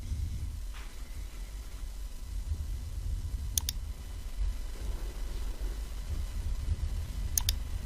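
Two quick computer mouse clicks on a Render button in V-Ray lighting software, sharp and close, standing out alone against a low steady room hum.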